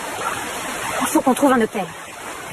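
Steady broadband rush of a waterfall cascade where people swim, running continuously beneath a nearby voice speaking.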